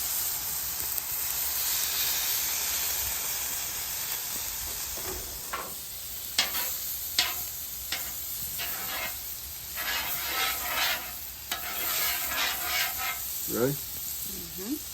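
Steak fillets sizzle on a hot griddle as they are pushed around to sear the edges, giving a continuous bright hiss broken by sharper crackling bursts.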